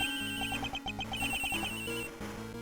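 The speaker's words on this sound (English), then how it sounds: "That's her cell phone." A cell phone in Ace Attorney Investigations 2 rings with a rapid, repeating electronic trill of bright pulsed tones over a steady backing chord, loud and close.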